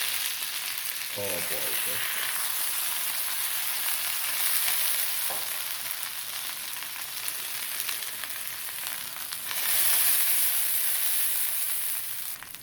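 Fish sizzles in a frying pan with a continuous, close, loud hiss that swells near the end, plus a few utensil clinks and a short exclamation from a voice.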